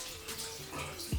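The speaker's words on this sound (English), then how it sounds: "so I wash my hands first" Running water from a tap splashes over hands as they are washed before cleansing the face, a steady close wash with a brief louder gush near the end.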